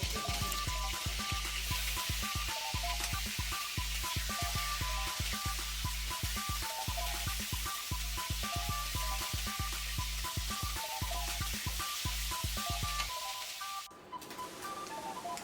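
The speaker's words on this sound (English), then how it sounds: "In the same way, fry the other pieces of the crab slowly." Crab pieces frying slowly in hot oil in a pan, a dense steady sizzle with rapid crackling pops that continues without a break, then cuts off near the end.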